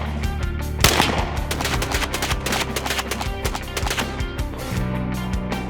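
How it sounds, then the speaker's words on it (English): Rapid bursts of gunfire from a semi-automatic .45 caliber Tommy gun at a shooting range, loud and close, with dense repeated sharp cracks across the whole stretch. "You shoot in the semi-automatic Tommy gun."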